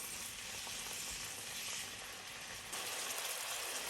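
Shrimp sprinkled with a little salt frying in a pan, a steady dense sizzle with faint scraping stirring, close and continuous, with no talk.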